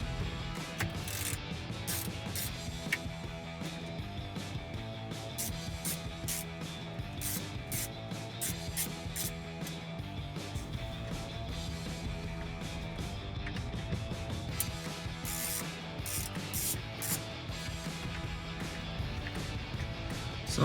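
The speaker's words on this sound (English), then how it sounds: "I'm going to use my 7mm socket to remove the radio." A 7mm socket on a ratchet clicks continuously while removing the radio bolts in a 2013-2017 RAM 1500 dash, with rapid pawl ticks sounding close over a steady mechanical background, without speech.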